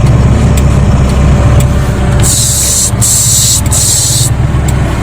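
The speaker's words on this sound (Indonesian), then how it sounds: "Kemudian fakta berikutnya adalah evapnya bunyi." Air conditioner evaporator on a 2001 Hyundai Atoz GLS makes a constant loud hissing, whooshing noise under a steady hum, with a few bursts of brighter hiss along the way.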